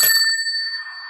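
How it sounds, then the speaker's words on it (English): A single bicycle bell rung as a debate timer, one bright metallic ding with sustained ringing tones that fade slowly over about a second, loud and alone. "I said, well, it's my bicycle bell."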